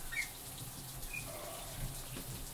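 Shower water runs from the tap in a steady, even hiss that keeps a constant level throughout, with no voices over it.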